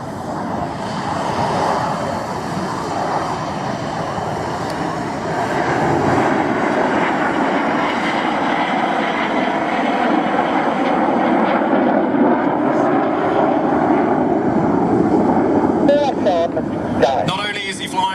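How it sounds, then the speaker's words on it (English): A Red Arrows jet flying barrel rolls at the Midlands Airfestival airshow makes a loud, sustained, distant engine roar that swells midway, heard under continuous commentary. "He's going to fly barrel rolls around Reds 1 and 3's smoke with a continuously changing vector"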